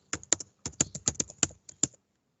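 Typing on a computer keyboard, a short burst of about a dozen crisp close key clicks in an uneven rhythm with brief pauses, then quiet.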